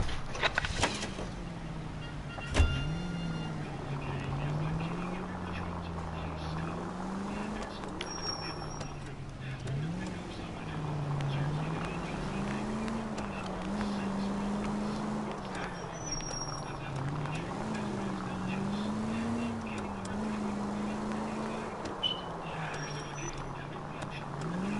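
A car engine from the video game LA Noire drones steadily throughout, its pitch rising and falling gently as the car is driven, with a brief sharp knock near the start.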